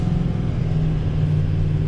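A loaded 2019 Ford F-750 dump truck weighing about 41,000 pounds pulls along flat road at part throttle, its engine giving a loud, steady, close rumble that builds as it gains speed.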